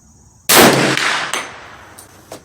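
A single loud, sharp gunshot from a free-floated Hi-Point 1095 10mm carbine at an outdoor range, after a quiet lead-in, followed by a decaying echo and a few faint clicks.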